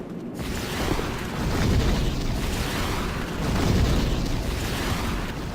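Fire spell blasts from the video game Demon's Souls, a dense roaring, rumbling burst that swells twice and fills the whole clip, loud and close, with no talk.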